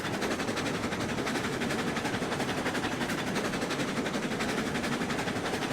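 A starter locomotive in the RailRoads Online game runs steadily, giving off a continuous rhythmic chugging and rail clatter at an even level with no voices.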